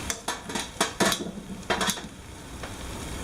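Metal tongs clatter and scrape against a pan while tossing seasoned Brussels sprouts with pan-fried chicken, a run of close, sharp clinks and clanks with a faint sizzle underneath.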